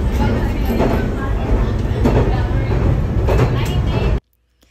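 Steady, loud rumble of a local train running along its route, with a sparse carriage and few passengers aboard, continuous for several seconds before cutting off abruptly.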